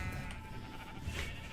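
In the blocky survival game Minecraft, a sheep gives a continuous, quavering bleat at even volume, heard alone without any voices.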